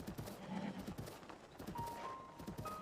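A horse in the video game Breath of the Wild gives an unhappy neigh amid hoof clip-clops, with brief whistling tones and busy game sounds, fairly loud and close.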